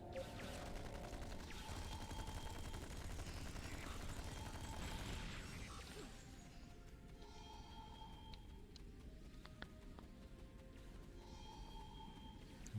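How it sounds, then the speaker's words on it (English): Sustained rapid weapon fire crackles in a Star Trek Online battle, dense and continuous at first, then thinning into scattered bursts and mechanical clicks over a steady low rumble, all at a modest, distant level. "Still firing the gun when I fall down."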